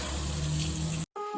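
Tap water runs steadily from a bathroom faucet into a sink during face washing, a close, continuous rushing gush that cuts out abruptly near the end, followed by quieter residual sounds.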